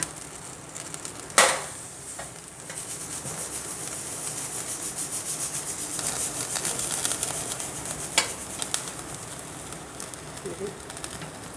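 Reshmi kebab searing over a gas stove flame, a steady soft sizzle and hiss with scraping and rubbing as the pieces are turned, one sharp clatter near the start, under occasional talk.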